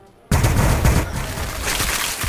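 Loud, dense bursts of automatic gunfire erupt suddenly and keep rattling in a continuous volley during a Warhammer 40,000 Battlesector multiplayer battle between Adepta Sororitas and Tyranids.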